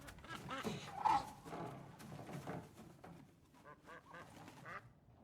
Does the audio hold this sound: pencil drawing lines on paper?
no